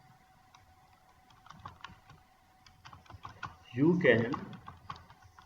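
Keys on a computer keyboard click in light, scattered taps as text is entered in Microsoft Word 2007, and someone briefly speaks partway through over the typing.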